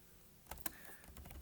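Keys clatter on a computer keyboard while someone types into Microsoft Word 2010: a few sharp, close clicks spaced irregularly through a quiet room, with no talking.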